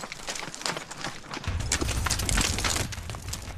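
Horse hooves clip-clop at a steady walking rhythm as a rider travels toward the stepped pyramid of Saqqara in Egypt, the footfalls close and fairly loud with light background noise throughout.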